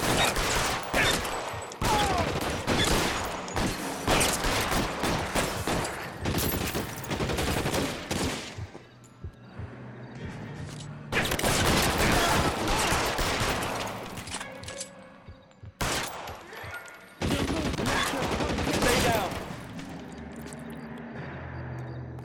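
Bursts of video-game gunfire in L.A. Noire, loud and dense volleys of shots in several clusters separated by brief lulls, with a low background hum between them.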